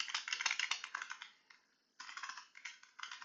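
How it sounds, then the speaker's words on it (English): Rapid keyboard typing, close and crisp, in two bursts separated by a brief pause, no talking. "in here you can type whatever you want in the content block"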